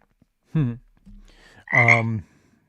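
A frog croak sound effect dropped into a live turf-care podcast, heard as two loud, throaty croaks with a softer, lower croak between them.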